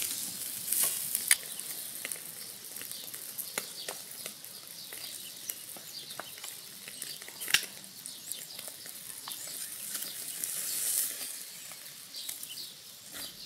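Caveman steak cooking directly on hot charcoal, a steady soft sizzle and crackle with scattered sharp pops, fairly quiet and continuous, no voices.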